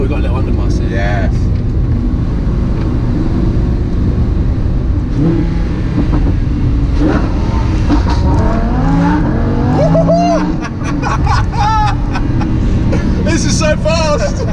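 A Lamborghini Huracan fitted with a new exhaust snarls loudly through an underpass, engine droning and revving continuously with sharp pops and crackles echoing off the walls, while voices shout excitedly over it.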